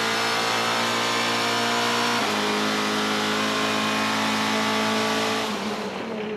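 GTC race cars at Killarney Raceway in Cape Town, a loud, sustained engine howl as one car holds high revs, with a gear change shifting the pitch partway through before the sound eases slightly at the end.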